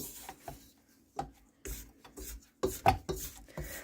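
Dough for cheeseburger stuffed buns scraped with a tool, several separate rasping strokes in an uneven rhythm, close and fairly loud, with no talk.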